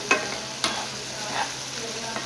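Spiced chicken pieces sizzle in a pan while a spoon stirs and scrapes, a steady frying hiss broken by a few sharp utensil clanks, close up with no talking.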